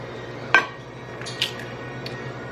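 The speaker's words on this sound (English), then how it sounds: "I'm gonna crack them in a separate bowl just to make sure that they're okay" Fresh homegrown eggs cracked against a bowl and dropped into a separate bowl: a sharp tap and clink, then a softer knock a moment later, close and clear in a quiet kitchen, with no talk.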